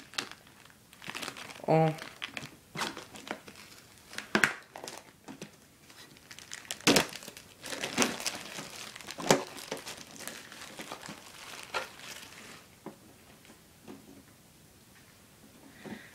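A Pokémon card box is opened by hand, giving close, irregular crinkling and rustling of plastic packaging with a few sharp tearing ticks, while a person speaks French quietly in between.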